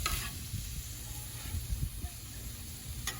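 Potatoes and meat for a beefy potato burrito fry in an oiled pan, sizzling steadily and close up, with low scraping and stirring bumps under the hiss.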